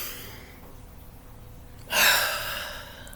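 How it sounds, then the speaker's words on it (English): One deep breath is drawn in audibly and then let out slowly after a quiet pause, close and alone. "Let's do that right now"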